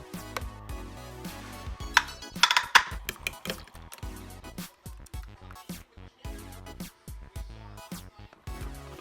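Pans and utensils clinking and knocking in a kitchen while an omelet is cooked, a scattered run of close, sharp metallic taps and clatters with brief pauses between them.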